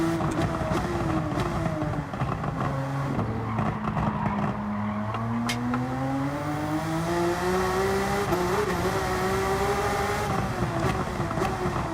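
A 2016 Porsche 911 laps the Nordschleife on dirty tires, its engine droning loud and close with pitch rising and falling steadily through corners, no voices over it.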